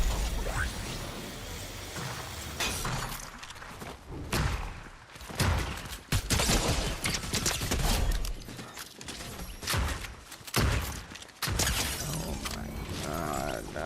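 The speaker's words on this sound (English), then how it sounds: "this gun feels so satisfying when you hit the shots" Gunfire in Fortnite, with rapid mechanical bursts of shots and thuds recurring in irregular volleys over loud, busy game noise, fairly close.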